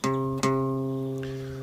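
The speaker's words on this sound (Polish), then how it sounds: "to jest dźwięk C na gitarze" A single guitar note, C on the third fret of the A string, plucked twice in quick succession, bright and close, then ringing out steadily with a clear sustained tone.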